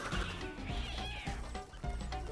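A cartoonish cat meow rings out in Crash Bandicoot 4: It's About Time, set off by spinning an object in a level, heard over busy game music and effects for a couple of seconds.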